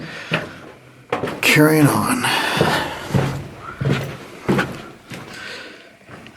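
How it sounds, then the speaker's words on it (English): A metal door is knocked and scraped back into place in an underground mine, with several clanks and bumps between bursts of talking nearby. "All right, put the door back."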